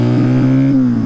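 A rebuilt Honda Dream motorcycle engine with freshly honed cylinder and new rings revs close and loud, a deep throbbing note that rises and settles over a brief burst.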